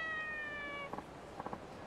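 A cat in the video game Yakuza 4 gives two short meows, the first a pair of quick close calls and then a triple burst, after a held tonal chime.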